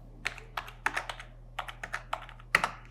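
Typing on a computer keyboard while entering a child's date of birth into an online minor PAN card application form: a quick run of crisp key taps in small bursts, close and clear, with no talking.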